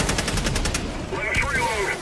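An automated sentry turret machine gun in Helldivers 2 fires a rapid, evenly spaced burst of loud shots, then gives way to mixed combat noise and a few sharp tonal chirps.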